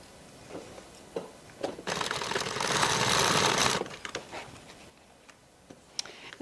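A sewing machine restitches a clutch bag seam in one steady, close, whirring burst of about two seconds, framed by light clicks and handling noises before and after.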